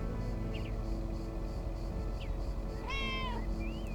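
Cats meow in the video game Lake, a few short mews and one longer rising cry layered over a steady ambient music bed, with no talking.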